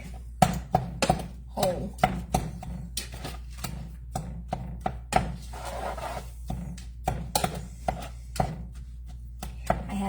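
Berries are mashed down in a cooking pot with a run of uneven, thudding presses and soft squelches, close and fairly loud, with a brief spoken word among them.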